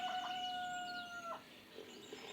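Chicken calls from the Lost Lands video game sound out, a long drawn-out crow-like squawk in the first second followed by softer trailing clucks over quiet ambient game noise, with no talking.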